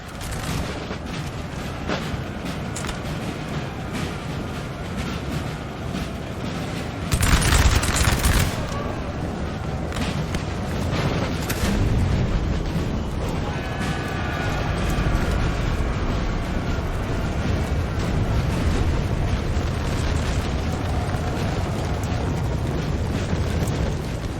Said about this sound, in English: I have artillery that can start helping me out.